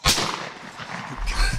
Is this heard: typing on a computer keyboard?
no